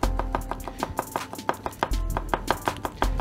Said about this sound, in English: we want to slice the garlic